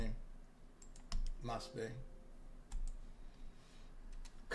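Typing on a computer keyboard, entering a password at a Linux login, with scattered key clicks and a few sharper strokes under brief muttered speech.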